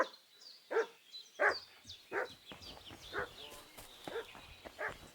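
A dog barks repeatedly at steady intervals in the village of the video game Kingdom Come: Deliverance II. The barks are moderately distant and are mixed with faint ambient game sounds.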